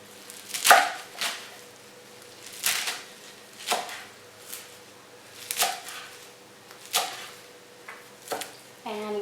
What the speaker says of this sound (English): Like I said, just a rough chop is fine. You just want to break up those big pieces.